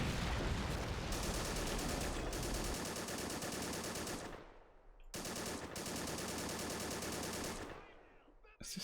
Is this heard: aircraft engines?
no